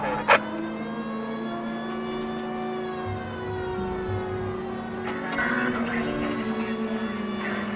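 Car engine from the L.A. Noire video game drifting, with a steady droning tone and slight pitch shifts, a sharp short burst near the start and a louder rougher passage toward the end.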